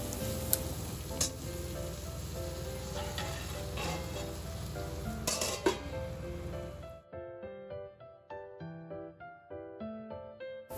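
Diced potatoes and raw green mango fry in a covered pan for a Bengali aloo posto bhaja, giving a steady soft sizzle with light crackles for about seven seconds before music takes over.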